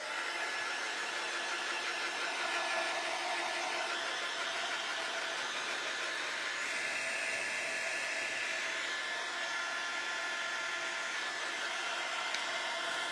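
A hair dryer blows steadily on air-dry clay ghost figures, a constant close whooshing roar of motor and airflow that holds at even loudness throughout with no speech.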